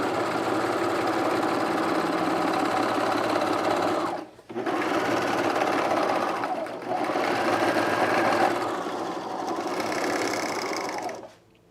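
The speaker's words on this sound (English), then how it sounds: "I'm overlocking" An overlocker sewing machine runs in long continuous bursts while stitching cargo shorts, a steady loud whirring hum broken by two brief pauses before stopping at the end.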